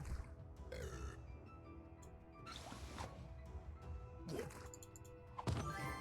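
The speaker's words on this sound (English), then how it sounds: "Burp." Loud burp from a drunk dwarf in the Kingdom Rush Vengeance game, rising out of a busy mix of game clatter, whooshes and crashes.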